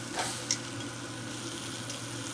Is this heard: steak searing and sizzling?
yes